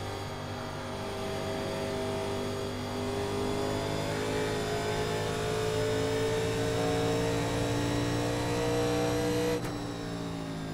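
A 1987 Legends race car in iRacing at Darlington Raceway powers out of a corner, its engine holding a loud, steady harmonic drone that climbs gradually in pitch across the whole stretch before a brief drop near the end, with no talk.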